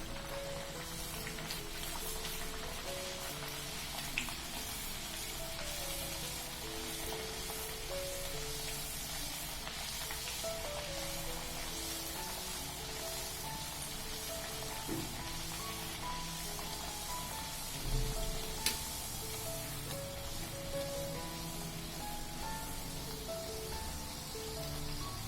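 Corn flour puris frying in hot oil, a steady dense sizzle and crackle running evenly throughout with no voices.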